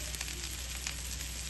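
Ragi adai batter frying in oil on a hot griddle stone, a steady close sizzle with light crackling pops throughout, no voices.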